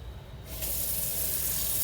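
Cold water bursts from a kitchen tap about halfway through, a steady close hiss of running water filling or rinsing at a sink while making Italian focaccia bread dough.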